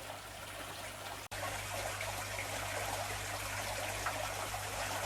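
Water streams and trickles steadily as Java moss is rinsed to shake loose galaxy rasbora eggs, a continuous close splashing flow with a brief break near the start and a low hum beneath.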